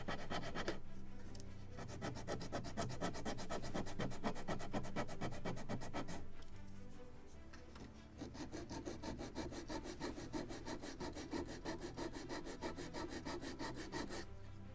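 Sandpaper rasps back and forth on the wooden hull of a Model Shipways kit of the 1776 gunboat Philadelphia, in steady, close strokes that pause briefly and then resume.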